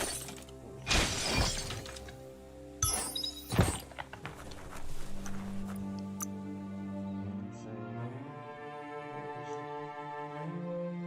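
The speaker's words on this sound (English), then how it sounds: "You shouldn't worry about smashing up the box." A crate shatters in the Biomutant video game, with two sharp breaking crashes near the start followed by scattered thuds and clatter, then fading into a sustained tonal game score.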